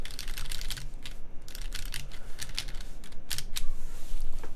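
Sharp plastic clicks and scraping come from someone prying at the base plate of a Sensy Seal80 Alps keyboard, a rapid irregular series of close, loud snaps and taps.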